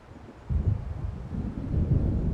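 In the video game Alan Wake, a storm approaches: a low rumble of thunder swells suddenly and then rolls on alongside gusting wind, deep and sustained.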